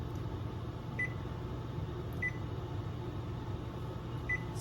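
Three short, faint electronic beeps from an oven control panel set to 350 degrees, evenly spaced about a second and a half apart over a steady low hum.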